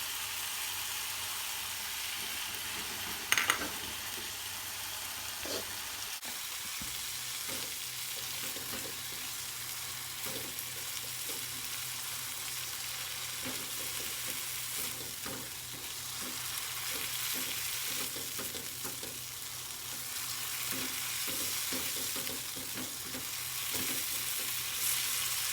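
Rendang spice paste sizzles steadily in a hot pan while a utensil scrapes and stirs it in repeated soft strokes, the frying close and continuous throughout with no talking.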